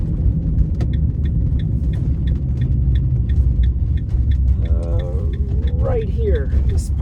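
Car driving through the streets of Duluth, Minnesota past a small parking spot, with a steady loud road and engine rumble throughout and a person's voice chiming in near the end.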